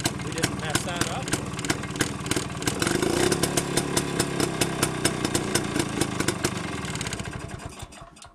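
An engine runs steadily, driving a sprocket forward, with a rapid even clatter of ticks and thumps up close that fades toward the end; someone talks over it.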